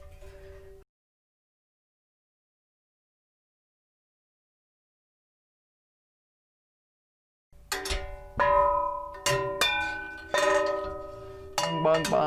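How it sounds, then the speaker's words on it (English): A hanging pantry pot rack loaded with pots and pans clangs and rings like a giant wind chime, with several bright metallic strikes that ring out and decay after a long silence. "Bong bong, it's like a giant, there we go, wind chime"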